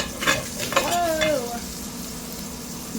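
Shrimp crackle and sizzle in hot olive oil with garlic, a steady close frying hiss broken by a few stirring scrapes and brief clinks of a utensil.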